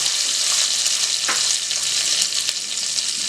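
Onion cut into large chunks frying in a clay kadai, a loud, steady hiss and crackle of hot oil with a few faint stirring knocks.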